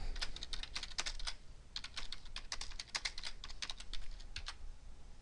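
Rapid keystrokes on a computer keyboard, including Tab and Enter presses, clatter in close, irregular bursts with brief pauses, alone and fairly loud throughout.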